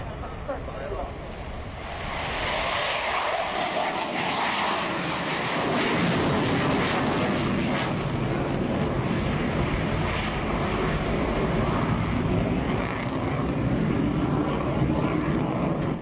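An airshow aircraft pulls up into a vertical climb, its engine roaring loud and steady throughout. The roar swells after a couple of seconds and holds, and a voice talks over it.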